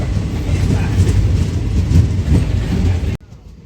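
Passenger train running on rails between Barauni and Garhara on the Samastipur to Kolkata route, a loud steady rumble and rattle of wheels heard from close by, which cuts off abruptly near the end.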